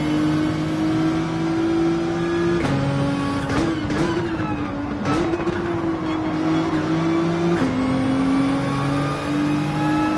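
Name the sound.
race cars driving in a racing video game at Watkins Glen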